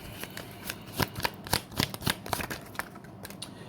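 A deck of tarot cards is shuffled by hand, giving a quick run of crisp riffling slaps and flutters close to the mic, irregular bursts over about four seconds, with no talking.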